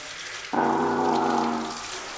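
Shower water runs steadily throughout at moderate level, with a humming tonal note swelling over the spray for about a second in the middle.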